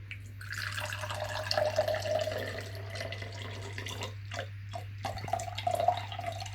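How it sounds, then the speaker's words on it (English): Water pours and trickles into glasses at a home science activity, a close splashing, dripping stream running in uneven bursts over a steady low hum, with no talking. "we'd just like to pour a bit of water into your glasses each"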